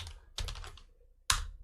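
Quick bursts of keystrokes on a computer keyboard while renaming an Excel worksheet tab, a cluster of taps followed by one sharp key press like hitting Enter, close and clear with no talking.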